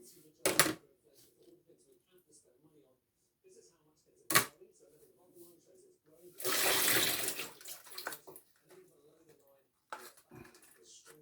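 Water drains off from a box where strimmer line has been soaking, giving one sustained pour or gush of a couple of seconds. Brief knocks and handling clatter come before and after it, and short bits of talk sit in the quieter gaps.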